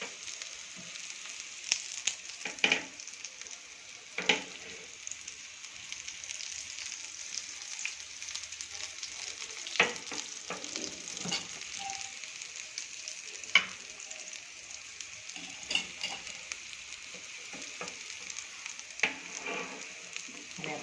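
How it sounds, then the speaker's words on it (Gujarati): Palak chana tikki, spinach and chickpea patties, fry in oil on medium gas with a steady close sizzle and occasional louder pops and crackles, alone without talk. "મીડિયમ ગેસ ઉપર આને ફ્રાય કરીશું આપણે."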